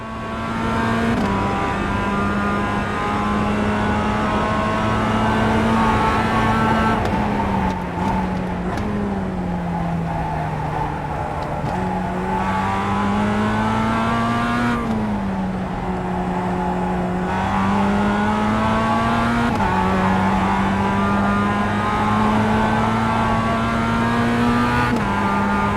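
Race car engine holds a loud, steady high rev on track, easing briefly with gear changes and dips before climbing again, a continuous close drone with bright harmonics and no talking.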